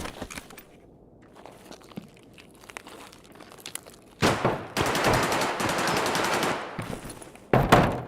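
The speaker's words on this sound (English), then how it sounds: "Who the hell is shooting it up over there?" Bursts of automatic gunfire in the shooter game Escape from Tarkov: quiet scattered shots at first, then a long loud sustained volley and another sharp burst at the end, with no voices.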